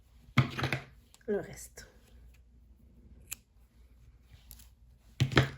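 A couple of sharp scissor snips cut crochet yarn at close range, brief crisp clicks separated by quiet, with soft speech in between.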